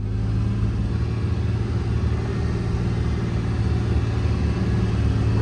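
A side-by-side utility vehicle engine idles at a crash memorial site, a steady close low rumble with no change in pace and no talk.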